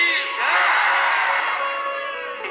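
At a devotional katha gathering, a large crowd roars the Shri Radha Vallabh Lal ki chant in unison, a loud, sustained collective shout that swells and slowly fades over a couple of seconds.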